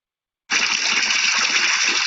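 A steady, loud gush of water rushes into a pool in the desert, a continuous broad wash that starts abruptly and holds evenly throughout.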